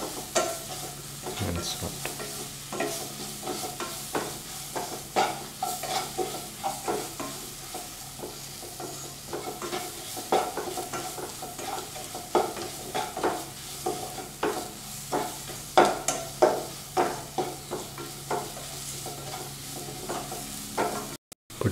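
Pumpkin, potato and green peas roasting in a little oil in a pan, stirred with repeated scraping strokes over a steady sizzle, fairly close; a voice speaks briefly.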